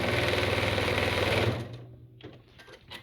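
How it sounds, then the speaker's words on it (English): A sewing machine stitches the corner of a fabric basket with a fast, loud, even mechanical rattle. It stops abruptly partway through, leaving quieter handling clicks and rustles. "Make sure to backstitch every time you stitch a corner"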